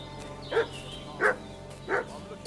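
A dog barks in the medieval game Kingdom Come: Deliverance II: three separate barks about two-thirds of a second apart, moderately close, over a quiet ambient background.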